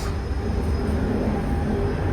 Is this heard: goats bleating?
no